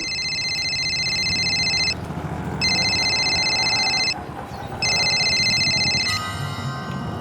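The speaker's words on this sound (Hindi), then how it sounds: "फिर एकदम से अचानक मेरे पास निहारिका का फोन आ गया।" An electronic phone ringtone sounds in three long bursts separated by short pauses, loud and close, with no one speaking.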